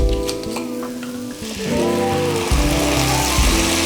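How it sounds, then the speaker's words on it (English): Wine poured into a hot pan of toasted risotto rice for a plant-based butternut squash risotto, setting off a loud, steady sizzle and bubbling that swells after the first second and carries on without talk. "Go in with some wine."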